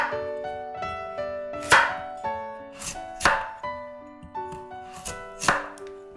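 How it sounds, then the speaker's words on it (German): A knife slices a radish lengthwise into thin slices on a cutting board, with crisp, regular strokes under soft background music. "Längs in dünne Scheiben schneiden."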